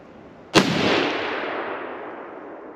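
A single sharp crack from a Mauser 98K rifle fired at a steel plate 200 yards off, loud and close, followed by a long rolling echo that slowly fades outdoors in fading light.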